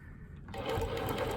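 A longarm quilting machine starts up and stitches a custom quilt, going from a faint hum to a steady, fairly quiet mechanical whir over about a second, with no talk.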